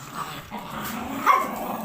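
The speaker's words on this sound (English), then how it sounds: "the dogs are just out of control" Dogs bark and growl in a dense, continuous tangle, fairly close and moderately loud, with a sharper burst near the end and no talk over it.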